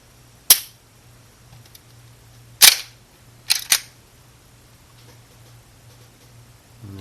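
Sharp mechanical clicks from a Taurus G2c 9mm pistol's trigger resetting come close and crisp, one, then another about two seconds later, then a quick pair, with quiet between them.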